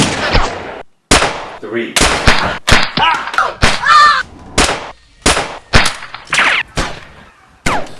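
Custom gunshot effects for a strong-arm weapon in a Gun vs Gun film, a string of sharp, loud close-up bursts in uneven rhythm with brief silences between, and a few spoken words near the start.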